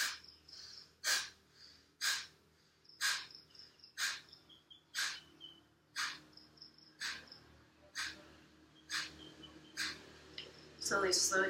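Slow, rhythmic yogic breathing in a yoga session in Thailand, regular soft breaths repeating about once a second, with a steady chirp of crickets or insects in the background and a louder rustle at the end.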